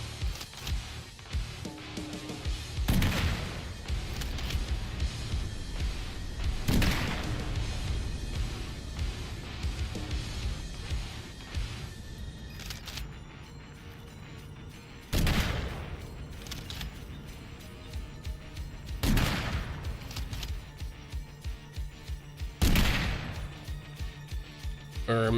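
Sniper rifle gunfire in the video game Sulfur: six widely spaced sharp cracks, each a loud single report with a short tail, over steady game music and ambience, with someone talking between shots.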